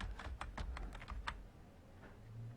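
A short, soft burst of keystrokes on a computer keyboard set up with a Remington (GAIL) Hindi layout in Windows 10, about eight quick clicks close by that then stop, leaving faint room hum and no talk.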